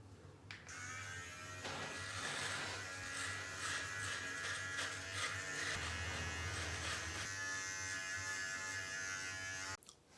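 An electric shaver buzzes steadily across facial hair, close and continuous for several seconds, its tone shifting slightly as it moves, then switching off abruptly.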